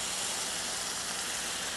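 Water poured into a hot pan of beef for Asian noodles sends up a steady, loud sizzling hiss of steam that holds without a break.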